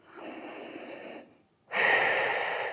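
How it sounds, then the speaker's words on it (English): A big breath in and out during a morning reformer workout: one long, steady airy inhale, a short pause, then a louder, fuller exhale, heard up close with no talking. "Big breath in and out."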